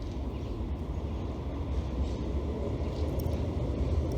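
A tram passes by a park as a low, steady rolling rumble with faint high squeaks, moderately quiet and continuous throughout.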